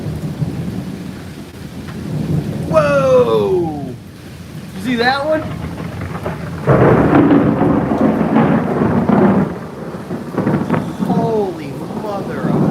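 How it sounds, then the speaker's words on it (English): Thunder rolls through a close thunderstorm, with rumbling lightning strikes under steady rain, loud and near, while someone talks excitedly over it throughout. "And I know where all those lightning strikes are hitting."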